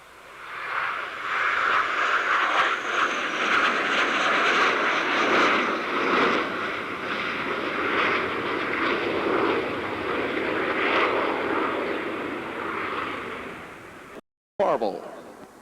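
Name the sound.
aircraft flying an inverted airshow maneuver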